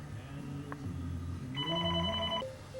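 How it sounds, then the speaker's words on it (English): A telephone rings in a room where clear-coat lacquer is being sanded, a bright electronic warble of repeated tones sounding close and steady over a low hum, stopping abruptly near the end. "what I want to do is answer the phone"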